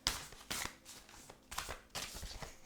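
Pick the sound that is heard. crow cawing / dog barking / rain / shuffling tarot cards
shuffling tarot cards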